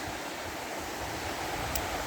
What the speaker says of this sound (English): It's a nice wee waterfall there.